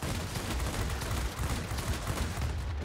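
Rapid bursts from the 37mm cannon of a Yak-3T fighter in World of Warplanes, a dense, continuous thudding of shots over steady engine roar, with no talk.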